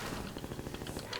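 Enemy gunfire in Half-Life 2 comes as a rapid run of shots, a dense, steady rattle of bursts lasting about a second.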